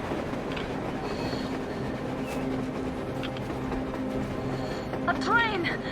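A train rolls across the surface in the game Metro Exodus, heard as a continuous low rumble with a brief metallic wheel squeal near the end, under faint background voices.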